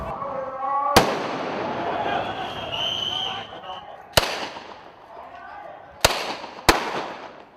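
Gunshots in a Bangkok street clash: four sharp, distant-sounding cracks at irregular intervals, the last two close together, over a noisy crowd and a voice speaking.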